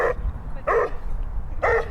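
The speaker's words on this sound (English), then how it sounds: "That's not a very friendly dog" An unfriendly dog near a pedestrian bridge barking three sharp times in an uneven rhythm, close and loud, with quiet outdoor background between barks.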